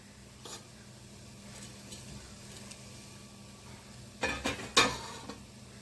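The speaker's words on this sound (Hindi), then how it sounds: "और उसके बाद हम सभी चीज़ों को अच्छे से कलछुल की सहायता से मिक्स कर लेंगे।" Ladle stirring dates, poppy seeds and dry fruits in a pan with the gas turned off, faint scraping early on, then a few louder clattering scrapes near the end.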